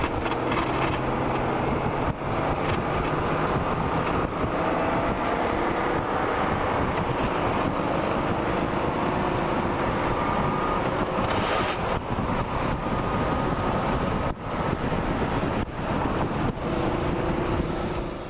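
Heavy wind buffets the microphone of a motorcycle that has no fourth gear, ridden on a San Diego freeway and held at about 4,500 RPM, with a low engine drone buried under a constant loud roar of rushing air.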